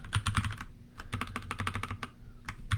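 Quick, uneven bursts of key clicks from a computer keyboard, close and fairly quiet, with short pauses between runs of typing and no talking.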